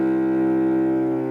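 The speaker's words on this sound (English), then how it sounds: "Last string is a C." An open C string is bowed on a cello in one deep, buzzy sustained note, steady and close for just over a second, with no other sounds.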